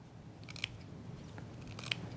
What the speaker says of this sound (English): you're going to go ahead and you're going to trim that off